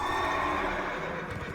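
A horse mount in World of Warcraft Classic gives a short, clear neigh, a whinny lasting under two seconds with faint hoof clatter underneath.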